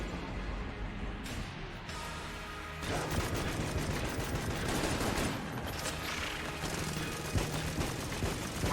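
Strafe gun firing in the Enter the Gungeon video game, a dense, continuous barrage of rapid shots layered with game effects, loud and steady throughout.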